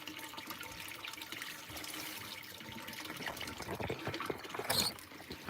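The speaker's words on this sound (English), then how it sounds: "Putting some fresh water in the live well." Fresh water gushes and trickles steadily into a boat's live well on a chilly white perch fishing day, a close, continuous splashing that grows a little louder toward the end.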